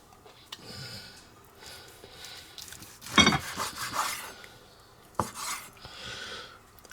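A knife saws through a thick 36 oz ribeye steak against the grain, a close scraping, rasping cut with metallic clinks against the plate, loudest in a burst near the middle and a sharp tap later.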